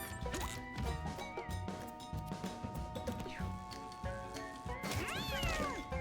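Cats meowing in the video game Mewgenics, rising and falling cries, the clearest near the end, over busy game music and effects.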